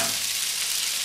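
Potatoes drop into melted butter in a frying pan and sizzle at once, a close, bright, steady hiss throughout.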